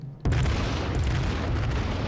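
HMS Warspite's battleship main guns firing in World of Warships: a single loud, deep booming salvo after a brief quiet moment, followed by a long, heavy rumbling roar that stays loud to the end.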